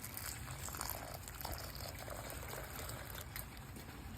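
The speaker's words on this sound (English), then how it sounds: "I have some lukewarm water here. We're just gonna dump it directly into the bag." Lukewarm water poured from a container straight into a bag of potting mix, giving a steady, close, rushing trickle that runs unbroken for about four seconds with no talking.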